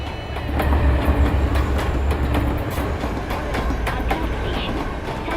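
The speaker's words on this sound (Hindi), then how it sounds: "छत्रपति शिवाजी टर्मिनस जाने वाली धीमी लोकल प्लेटफॉर्म नंबर 2 से रवाना होने के लिए तैयार है।" A slow Mumbai local train bound for Chhatrapati Shivaji Terminus rolls along with a steady, loud rumble and faint clickety-clack of wheels, heard up close as continuous rail noise without talk.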